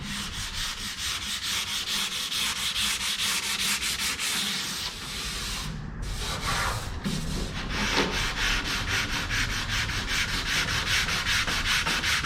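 A sanding tool works steadily across a surface in continuous gritty rasping strokes that barely pause for over twelve seconds, close and loud with no talking.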